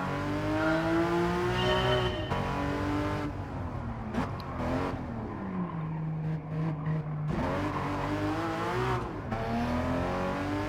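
Porsche Cayman GT4 engine in a racing video game, a loud, close engine note climbing and dropping with shifts and braking, with brief tire squeals between hard accelerations and no voices.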